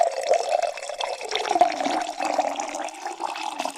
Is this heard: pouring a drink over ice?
yes